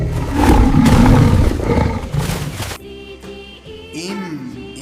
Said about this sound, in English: L for lion.